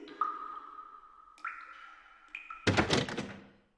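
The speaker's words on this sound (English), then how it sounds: "Well, the door's locked" A locked door tried in the Silent Hill 4 video game: sustained tonal hums step up in pitch, then a sharp rattling thunk of the handle, close and clear, with no talking.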